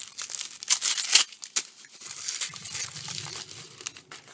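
Packaging crinkles and tears as a small plastic storage box is opened, giving close, irregular rustling bursts that are loudest early on and settle into softer handling noises.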